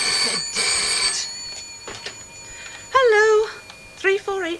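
A telephone rings with a bright, loud repeating bell at the start, followed by people talking, with a brief cat-like meowing sound near the end.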